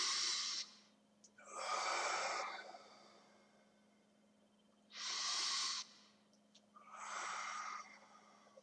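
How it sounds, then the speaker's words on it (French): Slow, deliberate breaths during a judo taiso warm-up, each inhale through the nose and exhale audible as a close, airy rush, four long breaths with quiet gaps between them. "On inspire avec le nez, les mains rentrent vers le ventre se gonfle, puis on expire, le ventre devient plat."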